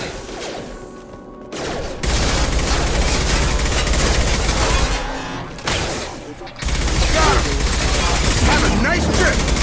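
Sustained automatic gunfire from a Mass Effect 2 firefight roars loud and dense for most of the stretch, with a brief lull midway before the barrage resumes, voices calling out over the shooting.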